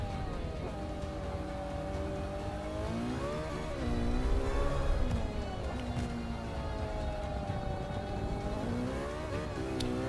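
A race car lapping in Forza Motorsport 5, its engine whining and revving continuously, pitch rising and falling through gear changes and corners, heard steadily throughout.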